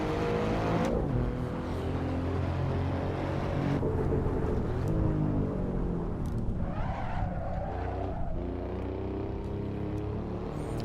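Alfa Romeo Giulia Quadrifoglio in Assetto Corsa sliding sideways in a drift, its engine droning loud and steady with pitch swings as revs rise and fall, plus tire noise, all without pauses and with no voices.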